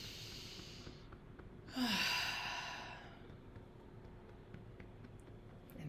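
A single deep inhale during a tapping exercise, a soft rising breath lasting about a second over quiet room hiss, fading gradually; no talking.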